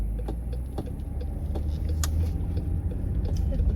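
A car driving along a country road, with a steady low engine and road rumble close by and faint, brief voices underneath.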